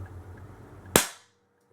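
A single sharp, loud airgun shot cracks at a target nearby, then fades quickly into silence. A faint hum sits under it beforehand.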